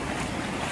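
Ocean waves roll past in a steady, dense wash of surf, with wind noise buffeting the microphone and no voices.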